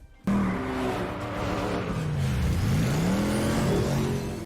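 Batman's car and the Penguin's car racing in a chase from the film The Batman, with loud engines revving and sweeping up and down in pitch, passing close by with tire noise.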